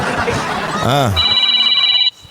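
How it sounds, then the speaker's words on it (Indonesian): A telephone rings with a steady electronic two-tone trill partway through, starting after a voice speaks and sounding for about a second before cutting off abruptly, with chatter and a brief laugh heard under and before it. "ada telepon"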